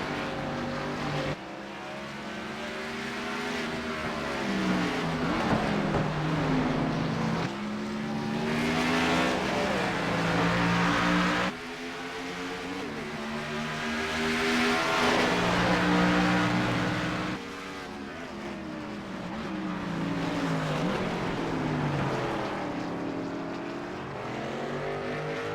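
Race car engines roar and whine through rising and falling gear changes on the Watkins Glen circuit in iRacing, several cars sweeping past in repeated waves, loud and close, with no talking.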